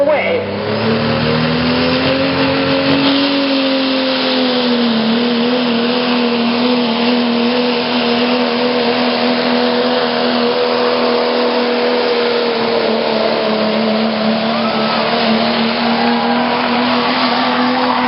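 A 1997 Dodge pulling truck, the Paisley Machine, roars at the Lorain County Fair truck pull, its engine wound up into a loud, sustained, high-revving howl that holds steady for the whole stretch, with an announcer talking beneath.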